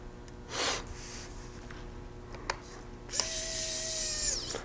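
Small screw being turned inside an HP 15.6-inch laptop, a few faint scratchy clicks and short mechanical whirs up close, followed by a steadier whirring tone near the end.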